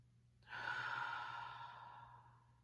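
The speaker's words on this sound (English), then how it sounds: "So let's just take a breath together." A single deep breath drawn in slowly and close, swelling quickly, then easing off over about two seconds in a quiet room, with no talking.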